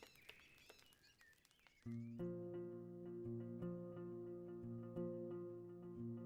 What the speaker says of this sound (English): the serene chirping of birds